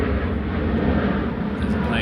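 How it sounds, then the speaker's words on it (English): A plane passes overhead above a spring crayfish pool during carp fishing, a steady low broadband drone heard continuously and moderately loud, with someone speaking over it. "There's a plane going over right now"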